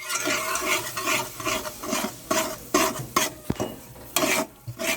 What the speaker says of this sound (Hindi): तो हमें सूजी या रवा जो होता है उसको बिल्कुल लो फ्लेम पे ही रोस्ट करना है।